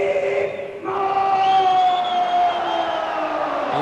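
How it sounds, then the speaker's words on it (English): Large crowd at a 1995 K-1 kickboxing event in Japan, a sustained roar of cheering and whooping from the arena, loud and continuous, with a brief dip before swelling again. "Listen to that crowd."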